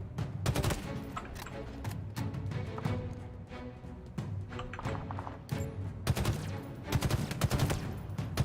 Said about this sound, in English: Did I just shoot needles?